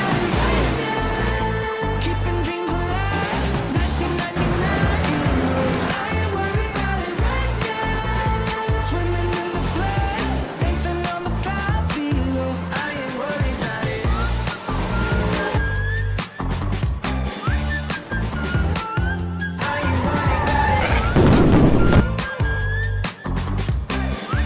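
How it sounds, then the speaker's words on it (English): Race cars in a racing video game roaring around a track, engines loud and continuous with shifting pitch and occasional tire squeal, close and dense throughout. "For cars moving on the racetrack."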